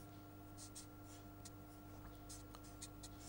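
Marker or chalk strokes on a board as a lecturer writes an equation, short scratchy bursts in an irregular rhythm over a steady low hum, faint and fairly close.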